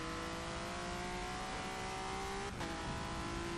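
A race car engine on the Sonoma circuit in a racing video game drones steadily at high revs, pitch climbing then dropping briefly at an upshift into second before pulling again, continuous and close.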